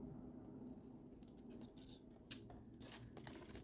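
Scissors trim a spider plant in a few quiet, sharp snips late in the moment, heard faintly over a hushed room background with no one speaking.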